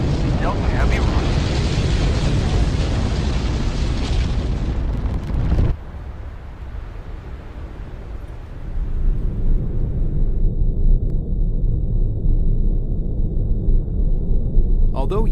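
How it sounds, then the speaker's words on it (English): A ULA Delta IV Heavy rocket lights its main engines and lifts off, a massive broadband roar and crackle that cuts off abruptly, then returns as a lower sustained rumble, with announcer voices beneath. "Liftoff of the United Launch Alliance Delta Heavy rocket."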